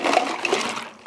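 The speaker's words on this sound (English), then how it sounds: "now we can go in with the rest of our water in ice water form to cool this down" Ice water pouring steadily into a pot of ham brine, a continuous splashing, gurgling rush that stays close and fairly loud for the whole stretch, with no voices.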